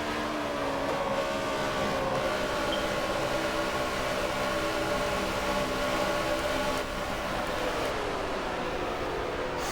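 Race cars in an esports racing game at the Brickyard at Indianapolis run side by side, a continuous loud engine roar with steady tonal whine and shifting pitch throughout.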